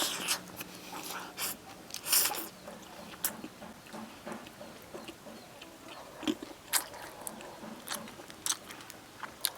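Glutinous rice cake (ciba) wrapped around a meat filling is bitten and chewed in big mouthfuls, giving close, moist smacking and chewing bursts in an irregular rhythm at moderate loudness.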